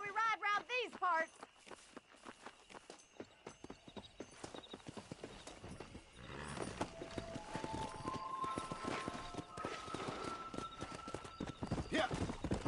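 Horses' hooves clip-clop at a riding pace in the Western game Red Dead Redemption, a steady rhythmic trot under spoken dialogue at the start, with a whinny early on and music tones rising later.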